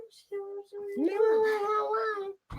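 A pet cat gives a drawn-out, wavering meow close to the microphone, rising and falling over about two seconds, with brief human voices around it.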